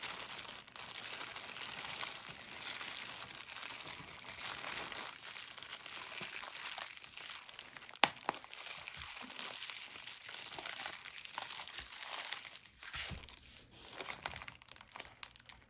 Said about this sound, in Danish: Jeg starter med at putte en viobitten i en plastikpose, som jeg lukker tæt til. Når jeg trykker på den,